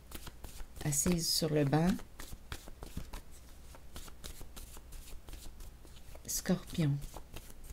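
Tarot cards are shuffled in quick papery riffles and then drawn and laid down with soft slaps, as a quiet voice speaks between the bursts of shuffling.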